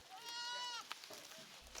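A goat bleats once, a wavering nasal cry close by on a farm in Burundi, followed by quieter shuffling and a faint low thump.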